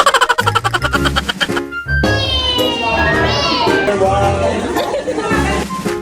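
A crowd of children shriek, chatter and laugh while playing games at a christening party, a lively, continuous hubbub close by with adult voices mixed in.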